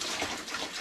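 Water pours steadily into an IcyBreeze portable AC cooler, making a continuous rushing, splashing gush at close range with no break.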